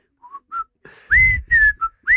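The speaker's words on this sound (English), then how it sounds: "I don't know why I whistled the Andy Griffith theme" A person whistles the Andy Griffith Show theme tune, a few short clear melodic notes close up, growing louder and breathier toward the end with slight background noise.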